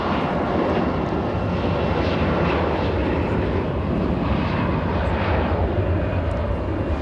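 CRJ jet airliner departing LAX, a loud, sustained engine roar rumbling across the whole stretch with a broad, steady hiss over it.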